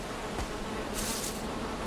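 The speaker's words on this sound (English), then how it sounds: "There's the bee's nest." A bees' nest in the Valheim survival video game gives off a steady, dense buzzing hum that stays level and close for the whole moment, with no voices.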